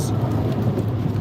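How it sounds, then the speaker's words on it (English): A serious thunderstorm with steady heavy rain and a low rumbling wash of thunder, loud and continuous throughout, with no voices. "So it's actually quite a serious storm today."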